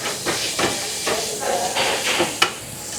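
Onion and garlic hitting hot oil in a pan with organic red chilli in a restaurant kitchen give a broad, steady sizzling hiss, swelling in short bursts as pieces drop in.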